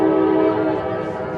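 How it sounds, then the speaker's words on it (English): A train passes just south of a stadium during a women's college soccer match, sounding a loud, sustained horn blast that holds steady and then eases slightly. "Train is going by here just to our south of the stadium"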